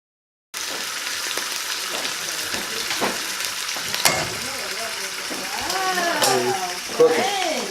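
Trout frying in hot oil at a catch-and-cook meal, a steady close crackling sizzle with a few sharp pops, under brief voices toward the end.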